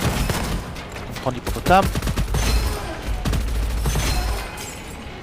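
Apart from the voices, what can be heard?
rapid gunfire from hippopotamus weapon in video game Gunfire Reborn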